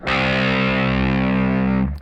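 One low C note on a distorted electric guitar in C standard tuning, struck once and sustained evenly for about two seconds with thick, buzzing harmonics before being cut off.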